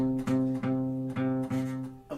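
Acoustic guitar note on the 5th string, fretted lightly right on top of the fret so it sounds muted and buzzy, plucked several times in a row, close and alone.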